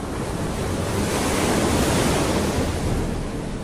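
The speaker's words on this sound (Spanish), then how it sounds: "Hoy tenemos a la tormenta tropical Beryl enviando estas olas" Ocean surf at Rockaway Beach in Queens, driven by Tropical Storm Beryl, roars as a steady, loud wash of breaking waves with wind noise on the microphone, continuous with no talking.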